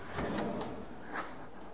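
A double drawer in a Rapido 854F camper van slides open or shut, a soft scrape followed by a faint knock, quiet and close, with no talking.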